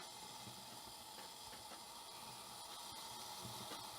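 A lightweight camping stove burns after priming, giving off a steady, even hiss that holds at a constant low level without breaks.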